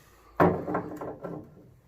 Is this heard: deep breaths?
no